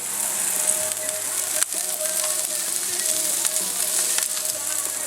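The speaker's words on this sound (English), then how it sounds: "We got these wings cooking" Chicken wings cook outdoors with a loud, steady, close-up sizzle of hot fat that crackles without a break, and a few faint voices sound beneath it.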